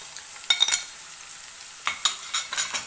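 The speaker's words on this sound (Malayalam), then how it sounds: "ഇനി ഇതൊന്ന് നല്ലോണം ഒന്ന് വാട്ടിയെടുക്കാം." Chopped onion, green chilli and ginger sizzle softly in a pan, with a light continuous hiss broken by scraping stirs in short clusters near the start and end.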